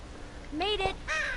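A crow caws twice in The Walking Dead by Telltale, Season 2, with clear harmonic calls near and loud over a low background rumble, no talk.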